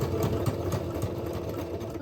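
Sewing machine running a zigzag stitch along the elastic waistband of a ribbon skirt, a steady close mechanical whir with rapid rhythmic needle pulses continuing throughout.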